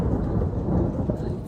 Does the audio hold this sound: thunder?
yes